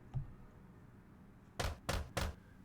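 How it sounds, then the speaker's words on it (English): Three quick knuckle raps on a door in the visual novel Katawa Shoujo, sharp and close, after a faint thud and quiet room tone. "I wrap my knuckles on her door and she soon calls me in."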